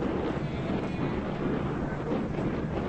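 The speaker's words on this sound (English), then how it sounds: "Wind is blowing in today." Steady wind gusts buffet an outdoor microphone at a high school baseball game, a continuous broadband rush that holds level throughout with no talk.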